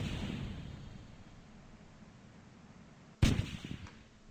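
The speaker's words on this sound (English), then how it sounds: "Let's fire some retros." Retro rockets firing in Kerbal Space Program RP-1: after a steady low hiss, a sudden loud blast-like thrust burst erupts near the end and rumbles on for a second.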